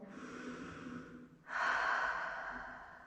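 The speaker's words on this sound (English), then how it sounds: "Take another cleansing breath" Two slow, deep breaths during a yoga pose, a soft airy inhale followed by a longer, louder exhale, close and quiet with no talking.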